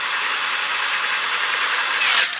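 A power drill bores through a metal mounting bracket for a motorcycle safety system install, a loud steady grinding whine held close up for about two seconds and then trailing off as the bit breaks through.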